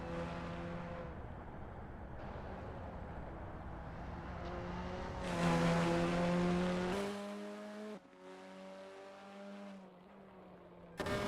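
Formula 4 race car from Assetto Corsa on a practice out lap at Long Beach, a steady engine drone with shifting harmonic tones that climbs loudly midway, then drops and carries on at a lower pitch with no talk.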